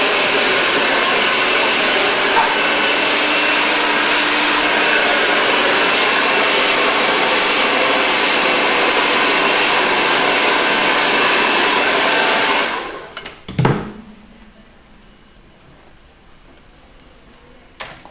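Hair dryer blowing steadily and loud during a blow dry, a constant close roar that cuts off abruptly near the end, followed by a soft clunk and quiet.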